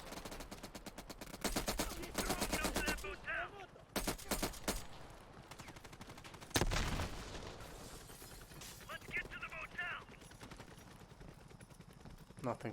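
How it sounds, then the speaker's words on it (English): Gunfire rattles through a Call of Duty Black Ops Cold War mission, PS5: dense bursts of automatic fire and single shots, with loud blasts near 4 and 6.5 seconds, carrying on almost without pause across the whole stretch. "And that was a terrible piece of shooting"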